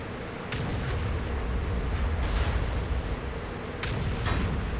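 Tank cannon fire from an E100 and a T95 in a tank battle video game, several heavy booming shots spread across the clip over a constant low rumble of battle noise.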